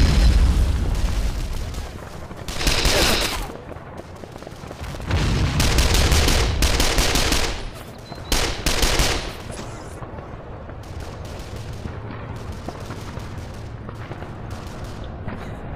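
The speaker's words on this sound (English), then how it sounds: "Huge German rocket barrage in response to my botched assault there" A German rocket barrage in a war video game, set in a Küstrin battle, lands as repeated heavy booms and rumbling explosions in loud bursts, trailing off into quieter distant battle noise.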